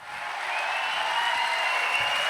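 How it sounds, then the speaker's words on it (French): A festival crowd cheers and applauds for MC Solar, a broad, steady wash of noise from many people that swells slightly and holds at a fairly loud level, heard from a distance. "Faites du bruit pour MC Solar."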